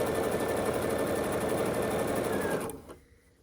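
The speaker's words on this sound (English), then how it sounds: "you're just going to sew all the way down this strip with a 1/4 inch seam allowance" A sewing machine runs at a steady fast hum and rapid needle rhythm while stitching quilt strips together with a quarter-inch seam, then stops abruptly near the end and leaves quiet.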